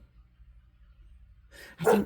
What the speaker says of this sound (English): My dog is losing her mind.